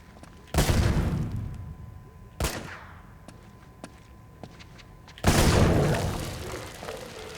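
Gunfire in Uncharted 2: Among Thieves, where three loud, separate blasts ring out with decaying tails, scattered with faint clicks and smaller pops in between.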